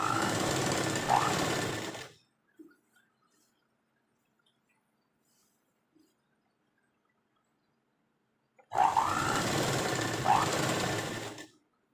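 A sewing machine loudly stitches a frill onto a churidar pant in two close bursts. Near-silence with a couple of faint clicks separates them.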